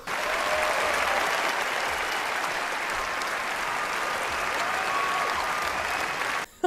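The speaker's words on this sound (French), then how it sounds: "Applaudissez-nous, applaudissez-nous." Steady, dense crowd applause at an even loudness, a continuous wash of many hands clapping that carries on for over six seconds and then cuts off abruptly.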